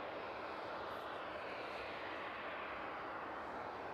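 An aircraft departing East Midlands Airport at night, a loud continuous engine roar, steady and broad throughout the short stretch with no talk.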